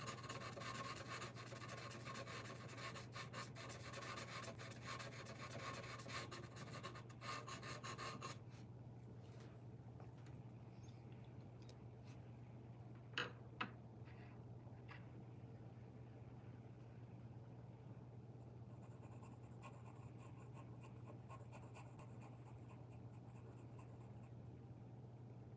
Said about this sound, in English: ASMR pencil scratching